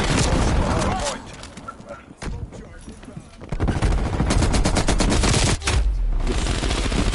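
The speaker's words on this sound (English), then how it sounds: "Hostile sentry turret active." Heavy rapid gunfire from a hostile sentry turret in a video game, loud and dense, pausing briefly midway before resuming, with a game announcer voice and other voices under the shooting.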